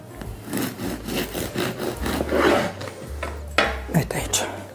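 A knife saws through a loaf of homemade Hungarian bread baked in a pot, cutting thin slices from the fully cooled loaf. Repeated close rasping strokes scrape the crisp, shiny crust, with light knocks and a voice talking quietly underneath.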